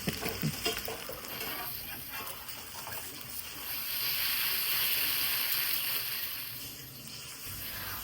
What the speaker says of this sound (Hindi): यहाँ पर मैंने अंडा फ्राई करना शुरू कर दिया